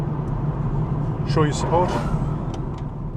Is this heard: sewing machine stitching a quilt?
no